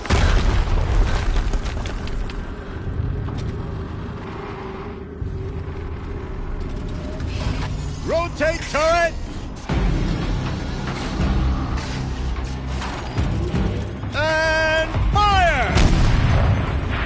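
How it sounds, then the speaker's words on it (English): Deep booming explosions in the video game Horizon Zero Dawn roll out over a rumbling background, with a couple of distinct blasts and their echoing tails amid game sound. "Another explosion."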